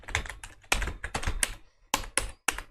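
Quick clusters of keystrokes clatter on a computer keyboard as code is typed, close and dry, broken by short pauses.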